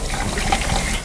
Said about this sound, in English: A waft of acrid vapor rises as the formaldehyde goes down the drain